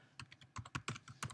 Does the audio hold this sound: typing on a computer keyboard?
yes